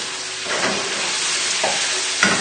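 Cooked pasta is stirred into chilli pesto and crispy sausages in a hot pan, giving a steady sizzle with soft scraping and stirring sounds up close.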